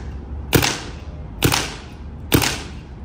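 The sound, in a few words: Planet Eclipse LV2 paintball marker firing two shots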